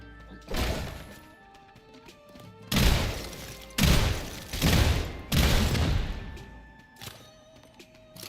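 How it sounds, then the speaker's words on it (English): Shotgun blasts in the video game SULFUR: four or five loud, heavy booms in an irregular cluster, each a broad crash with a short decaying tail, over a low game backdrop with no talk. "It is a video game shotgun, means that it is basically useless beyond like 5 meters."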